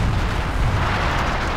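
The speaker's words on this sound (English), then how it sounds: "I just built this Bofors cannon, and that dealt with it pretty much indefinitely" Sustained heavy artillery fire from a Bofors cannon in the strategy game Company of Heroes, a dense, loud rolling boom with no clear gaps between blasts.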